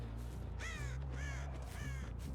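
Several hoarse crow caws in Dead by Daylight, three rasping calls in quick succession over a low steady game hum.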